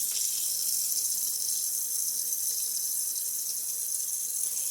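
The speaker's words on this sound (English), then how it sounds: "I'm just going to pull the faucet over." Water from a kitchen faucet runs steadily into the cavity of a raw turkey, a close, constant hissing splash with no voices.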